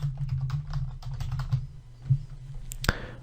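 Code being typed on a computer keyboard, a quick irregular run of light clicks over a low steady hum, ending in a sharper key clack.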